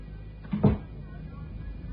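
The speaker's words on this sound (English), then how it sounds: "Close the door." A single dull thud of a door shutting nearby, brief and low, amid faint room noise and occasional voices.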